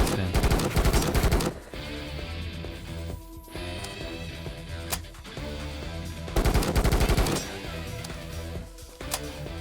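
Rapid automatic gunfire in Kinki Spiritual Affairs Bureau rattles in dense bursts over a steady game music bed, with louder volleys at the start and again midway, and no voices.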